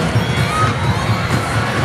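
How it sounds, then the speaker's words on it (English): A loud arena crowd screams and cheers steadily at a professional women's volleyball match as a star player steps up to serve. "you can hear the screams because Bea De Leon will be serving"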